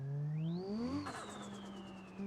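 Engine revving in BeamNG, a two-tone S13-style car fitted with an RB engine: the pitch climbs steeply and holds at a high whine, then falls away over a steady drone, loud and close, with no talk.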